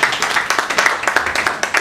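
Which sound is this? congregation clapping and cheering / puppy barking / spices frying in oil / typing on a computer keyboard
congregation clapping and cheering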